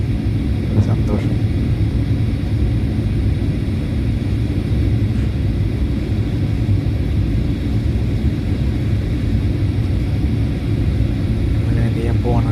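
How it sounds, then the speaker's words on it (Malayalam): Steady low rumble of an airliner cabin on approach to the runway for landing, a constant loud engine drone with no clear change in level. "ലാൻഡ് ചെയ്യാൻ പോവാണ് കേട്ടോ. റൺവേയിലേക്ക് നമ്മൾ അടുത്തുകൊണ്ടിരിക്കുകയാണ്."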